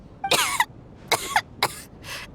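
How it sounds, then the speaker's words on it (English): A woman coughs four times in quick succession, harsh and close, each burst fading slightly with no talking around it. "How long have you had that cough"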